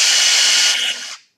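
A Festool TXS 18-volt cordless drill runs in top gear at 3900 RPM, a loud, steady, high-pitched whine close by that cuts off and quickly winds down.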